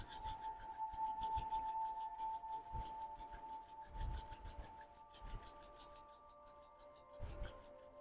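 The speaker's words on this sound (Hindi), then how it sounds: "दोनों हाथों से इस तरह से रब कीजिए और आंखों को रिलैक्स कर लीजिए" Palms of both hands rub together during a yoga eye-relaxation exercise, making a soft, continuous rasping friction with repeated strokes, quiet and close.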